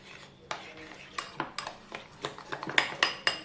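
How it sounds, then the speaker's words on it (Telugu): Avocado paste being mixed with lemon juice in a bowl for guacamole, heard as a series of close, sharp spoon clinks and scrapes against the bowl, roughly a dozen strokes in quick irregular rhythm. "లెమన్ జ్యూస్ యాడ్ చేసిన తర్వాత ఒకసారి మొత్తం మిక్స్ చేసేసుకుందాం."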